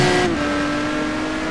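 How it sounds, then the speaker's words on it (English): McLaren F1 GT1 race car in a racing video game at Mugello, a loud sustained engine drone with a steady high tone that dips in pitch briefly, heard without speech. "Aaron Parsons driving the number 39."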